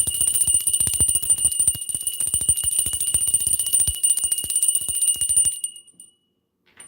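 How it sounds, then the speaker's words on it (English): A small bell rung over and over in a quick, bright, continuous jangle for about five and a half seconds, then cut off into near silence. "Let me ring the bell for some high vibrational energy before we exit"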